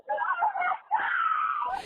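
Children wail and scream in distress on a recorded voicemail after a police officer is ambushed, two long, loud, anguished cries with a brief break between them, raw and close.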